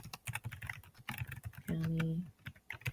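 Rapid clicking of computer keyboard keys while entering a location for a Google Calendar event, close and fairly quiet, with a brief tonal hum partway through.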